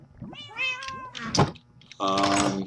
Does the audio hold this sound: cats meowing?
yes